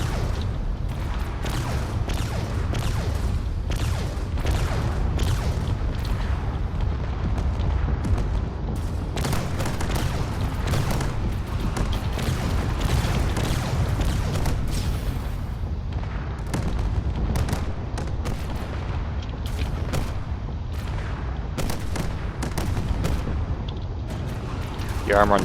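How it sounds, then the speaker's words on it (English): Missiles launch and explode in every direction during a Drone Wars video game battle, a steady, loud rumble packed with sharp overlapping booms and cracks, with someone talking over the din. "There's missiles going off in all directions."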